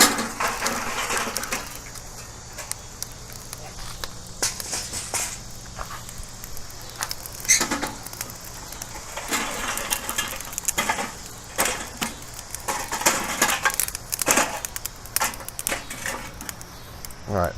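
Lit B&B hickory lump charcoal tumbles out with scraping, crunching clatter and sharp crackles, a busy close sound that comes in irregular bursts over a steady hiss.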